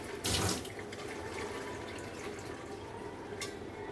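Water from a bottle-rinsing hookup sprays into a wine bottle, a steady hissing, splashing stream that starts with a louder burst and then continues evenly at close range.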